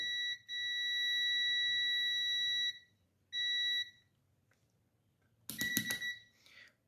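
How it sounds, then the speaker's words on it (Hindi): A UNI-T multimeter on a continuity test emits a long, steady electronic beep, then a shorter one, followed by a brief clattering handling noise. "ये आप देख सकते हैं, ये कंटिन्यूटी पे बीप कर रहा है।"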